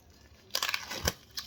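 Steelbook 4K Blu-ray packaging is unwrapped up close, a quick burst of crinkling and tearing plastic film in a few sharp rustles, with no talk.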